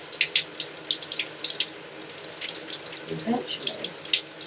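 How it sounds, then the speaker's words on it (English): Shower water runs in a continuous hiss with irregular spattering bursts, heard up close while someone briefly speaks over it. "as the temperature goes up, the shower pressure just gets worse and worse and worse"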